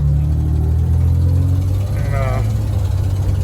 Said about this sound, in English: you give it gas and it's just puttering